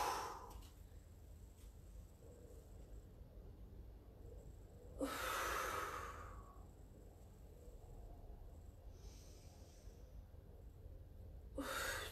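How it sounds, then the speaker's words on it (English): Breath during a Pilates exercise: two or three quiet, breathy exhales separated by long pauses, close to the microphone but faint. "Exhale."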